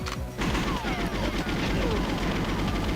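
Dense, continuous mix of in-game gunfire and mechanical clatter in the N64 game GoldenEye 007, Water Caverns level, with rapid repeated shots layered over a busy, loud soundscape.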